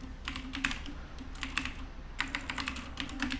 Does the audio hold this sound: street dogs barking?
no